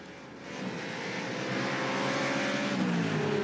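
Ford Mustang Supercars racing on a New Zealand track, a loud, sustained engine roar that swells as the cars pass, with rising and falling engine tones layered over a broad rushing noise.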